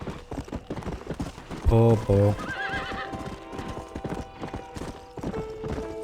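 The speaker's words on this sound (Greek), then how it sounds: "Τι άχρηστα άλογα είναι ρε φίλε αυτά." Horses in the western game Red Dead Redemption clip-clop at a steady gallop while one lets out a loud whinny midway, and someone speaks briefly over the hoofbeats.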